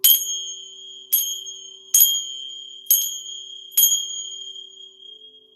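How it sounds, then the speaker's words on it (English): Sacred chime struck five times at an even, slow pace, each bright metallic ring sharp and close, decaying between strikes, with no talking. "Now I'm going to use my sacred chime to clear the energy"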